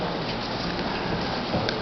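Steady rain falls outdoors, a dense, even hiss of drops on surfaces that holds constant from start to finish, with no voices.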